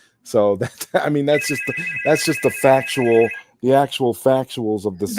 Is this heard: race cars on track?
no